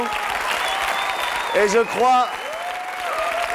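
A French television studio audience applauds a comedian's third encore, dense, sustained clapping from a large crowd throughout, while a voice speaks briefly over it in the middle.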